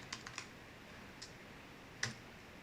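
A few quiet computer keyboard clicks as a shortcut is pressed, scattered soft taps with one sharper keystroke near the end over faint background hiss.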